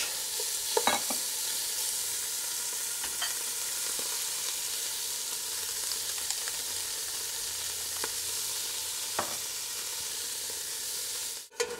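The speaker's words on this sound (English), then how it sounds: "A little bit of canola oil in the pot here, a little bit of salt and pepper, and just browning it off to get some nice caramelization on it" Meat browning in canola oil with salt and pepper in a pot, a steady close sizzle and hiss with occasional light clicks and scrapes of a utensil, continuous throughout and no talking.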